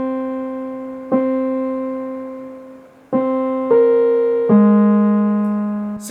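A Korg Minilogue synthesizer plays a clean, buzzy C note with release. Several sustained tones follow one after another, each swelling in and then fading gradually with a soft tail, heard up close with no voices.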